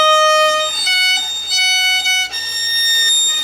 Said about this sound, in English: That sound is because your third finger is rocking over and touching the E string.